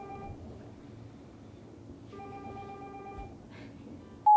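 A telephone rings in a school studio, a faint repeating electronic trill with tonal bursts over low background hum, ending with a sharp loud beep.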